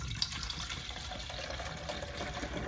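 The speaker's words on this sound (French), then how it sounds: "on va ouvrir le réservoir à l'arrière et on va verser 1/3 de vinaigre d'alcool à l'arrière" White vinegar pouring into the water tank of a Nespresso Inissia coffee machine, a soft continuous trickling splash of liquid filling a plastic reservoir, close and fairly quiet with no talking.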